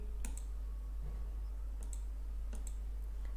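Sharp mouse clicks on a Register button while filling in an online application form, a few crisp, close clicks in small clusters spread across a quiet background.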